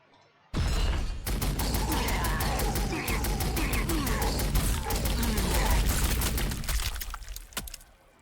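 Dense, sustained gunfire in Warhammer 40,000: Sanctus Reach, a loud rapid fusillade of overlapping shots that starts abruptly and rolls on for about seven seconds with rumbling low end, tapering near the end.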